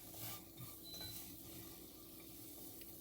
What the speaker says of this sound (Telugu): జాగ్రత్తగా ఫ్లేమ్ తగ్గించేసుకొని ఫ్రై చేసుకున్నాను